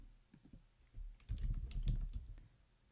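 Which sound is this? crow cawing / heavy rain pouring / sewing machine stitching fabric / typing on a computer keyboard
typing on a computer keyboard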